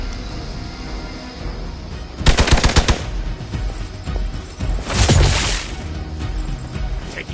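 Video game gunfire in Midnight Suns: two short bursts of rapid shots, the first crackling, the second heavier with a booming impact, over a low game background.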